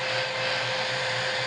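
A 5-in-1 hair blower and curler runs in blower mode, a steady, loud broadband whoosh of fan and airflow with a constant motor hum, with no break for the whole short stretch.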